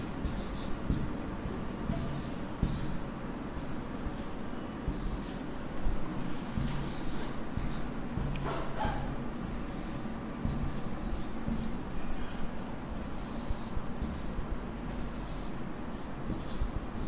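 Steady scratching and tapping of writing on a classroom board during a Sanskrit lecture, continuous strokes with brief pauses, close and moderately loud in a reverberant room, with no talking.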